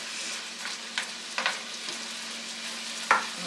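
Steak pieces fry in a stovetop pot of melted butter and rendered bacon grease, with a steady sizzling hiss, occasional louder pops and crackles, and a few stirring scrapes.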